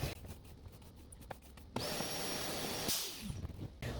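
An RV Intervac central vacuum in an Rpod 192 trailer roars steadily as it sucks through the floor kick plate, starting abruptly after scraping and tapping sounds, then cutting off near the end with brief handling noises following.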